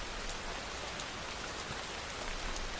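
Steady rain patters down evenly in a dense, continuous hiss of drops on a surface, constant and unbroken throughout.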